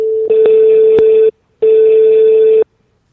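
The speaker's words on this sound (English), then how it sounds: "That 555 number's busy." A telephone line gives a busy signal: two loud, steady tone bursts of about a second each, separated by a short silence, then quiet.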